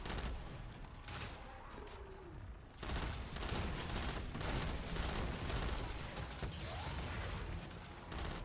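Dense, continuous gunfire from a first-person shooter while clearing enemy adds in a Destiny 2 Grandmaster Nightfall, rapid shots and mechanical clatter layered over each other for several seconds with a brief dip in the middle.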